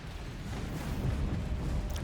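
A video game explosion hits close to a base, a dense low rumble that builds and stays loud and thick for the whole short moment.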